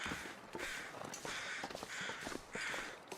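Crows cawing outdoors near a log sort, a few separate calls repeating roughly every second against a steady background hiss, faint and somewhat distant, no talking.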